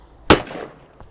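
Single blast from a side-by-side shotgun firing at a clay target, a sharp close report with a short decaying tail and a faint knock just after.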